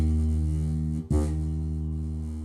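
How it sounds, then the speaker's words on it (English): An electric bass string buzzes against a metal fret because the fretting finger sits too far from the fret, producing a loud sustained low note with a brief break midway, played alone. "what's happening is that string is vibrating against that metal fret"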